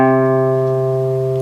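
A single C note plucked on an acoustic guitar at the third fret of the fifth string rings out clearly and close, sustaining steadily with a slow fade and no talking.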